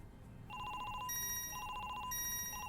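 A telephone rings in the detective video game Chinatown Detective Agency, an electronic trilling ring repeating in short bursts, steady and moderately quiet over a low background hum.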